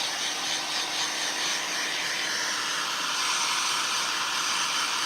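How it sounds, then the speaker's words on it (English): A heat gun held close to wet milk paint on a thrifted furniture piece blows a steady, loud, broadband hiss, like a hair dryer, unbroken for the whole stretch with no one talking. "I like to put my heat gun really close"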